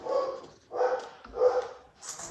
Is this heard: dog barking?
yes